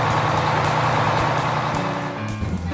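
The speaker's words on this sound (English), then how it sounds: "School bus! School bus!" A school bus engine drones loud and close, its steady low rumble shifting in pitch toward the end as though the vehicle pulls away, with no talking.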